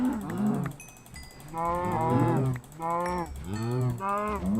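Cows mooing in the Minecraft video game, several drawn-out lowing calls in a row, loud and close, each rising and falling, with no talking over them.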